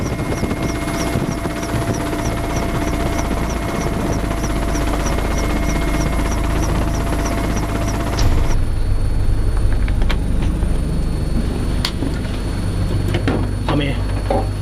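A military helicopter lifting off, its rotor chopping steadily and loudly throughout, with the engine whine rising and the downwash roaring harder midway through.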